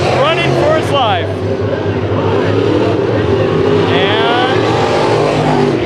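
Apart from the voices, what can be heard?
race cars at Bakersfield Speedway heat race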